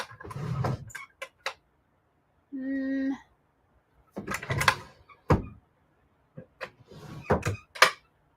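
A drawer slides open and items inside are rummaged through, with scattered knocks, clicks and rustles in short bursts, close by in a quiet room, with a brief tonal sound in the middle.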